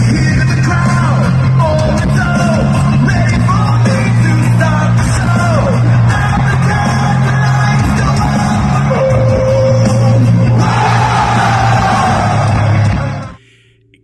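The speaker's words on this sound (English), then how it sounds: "all those people are screaming and singing that one line with the whoa, whoa, whoa, whoa" A huge arena crowd in Monterrey, Mexico sings Cody Rhodes' wrestling entrance theme in unison, loud and continuous, with cheering and yelling layered over the chant until it cuts off near the end.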